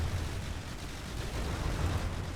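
A turret firing in a tank battle video game, a dense, continuous roar of blasts and rumbling that fills the whole stretch with no pauses and no talk.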